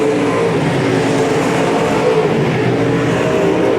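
Race cars roar around the oval at Boothill Speedway during night one of the Ronny Adams Memorial, a steady loud engine drone with full-body cars thundering past, no talk over it.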